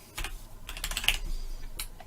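Fingers type a short word on a computer keyboard, a quick close burst of crisp key clicks in two clusters with a brief pause between, no voices.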